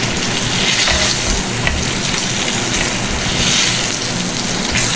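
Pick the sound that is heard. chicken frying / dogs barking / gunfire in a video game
chicken frying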